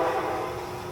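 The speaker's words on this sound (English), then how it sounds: "And there's another train coming." A train rolling past outdoors, a steady broad rumble with a faint tonal hum that holds at an even level for the whole second, with no talking over it.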